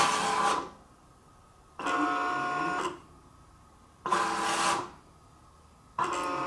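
A Siser Leonardo cutter machine running, with bursts of mechanical whirring about a second long separated by quiet pauses, repeating several times, close and steady.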